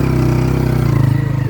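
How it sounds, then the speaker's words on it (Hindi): A motorcycle pulling away slowly in first gear on a hazardous stretch at a residential construction site, its engine a loud, close, steady mid-pitched thrum with pulsing firing rhythm and slight rise in revs, no talk. "मोटरसाइकिल आप निकालें भाई"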